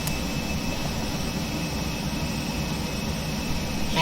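Steady jet engine roar of an AVRO RJ100 airliner on landing approach in X-Plane 11, a constant broadband drone with a thin high whine, loud and unbroken throughout.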